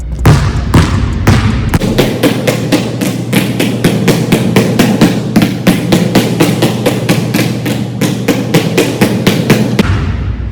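Premium leather basketballs dribbled on a court, a steady run of sharp, loud bounces in a quick, even rhythm, with a few slower bounces at the start, close and continuous with no talking.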